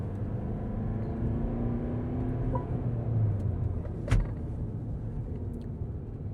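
A Mercedes V-Class Extra LWB V300d van drives through a braking test, its steady road rumble and engine drone easing down, with a short knock or thud as it comes to a stop and no talking.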